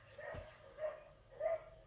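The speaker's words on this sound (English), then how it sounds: "sorry I've got my window open, someone's dog's barking" A neighbour's dog barks outside an open window, three muffled, distant woofs spaced evenly apart, faint against the quiet of a room.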